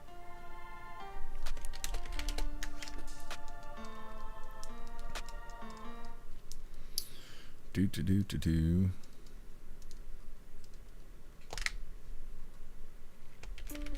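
Computer buttons clicked in a quick, irregular run, sharp and close. Tonal music plays underneath, and a denser burst of clicking comes partway through.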